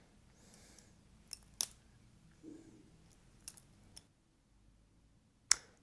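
A butterfly knife flipped open and closed gives sharp metallic clicks and clacks, scattered irregularly and close, with quiet handling rustle between them and a crisp final snap.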